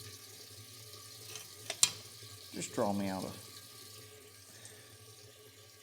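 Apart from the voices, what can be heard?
water running from tap, filling container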